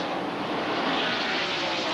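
NASCAR race cars with roughly 700-horsepower engines at a Texas race, a loud, continuous broadband roar of engines passing close, with no voices.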